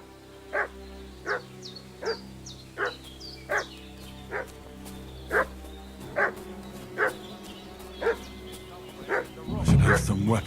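A dog barks repeatedly in Kingdom Come: Deliverance 2, about a dozen evenly spaced barks at moderate distance over a steady ambient bed, ending with a louder burst of noise.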